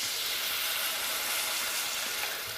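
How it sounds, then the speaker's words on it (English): Wine poured into a hot pot sizzles in a steady, loud, bright hiss that fills the whole moment without a break, close up and with no talking. "what we want to do is add a little bit of wine to our pot."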